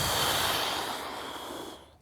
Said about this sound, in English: inhale, exhale